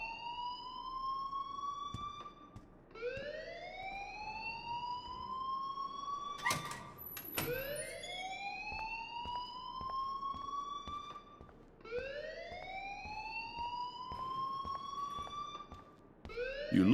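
An alarm in the video game Life Is Strange, repeating a rising electronic whoop roughly every four seconds, loud and steady, with a sharp metallic clank midway and no talk.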